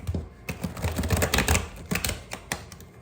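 Tarot cards are shuffled by hand in quick, uneven bursts of crisp clicks and riffles, close and fairly loud, with no voice.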